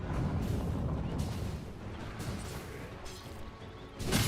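Dota 2 tower under attack during a professional Team Liquid vs VP match: a continuous rumbling barrage of impacts and crashes, fairly loud and steady, swelling again at the end, with no talk over it.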